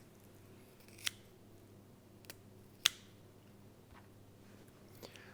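Kitchen scissors snipping through a Cornish sole near the head to trim away extra bones, a few sharp isolated crunching cuts spaced apart against a quiet background.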